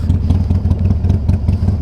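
Harley-Davidson Iron 883 motorcycle engine idling close by, a loud, lumpy, rhythmic V-twin chug with uneven pulses, no speech over it.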